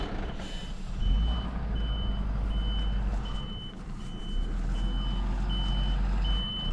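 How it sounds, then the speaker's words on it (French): A tow truck arrives with its reversing alarm beeping in a steady, regular pattern over a loud low diesel engine rumble, close by. "Le beau dépanneur. Le super dépanneur, il est là."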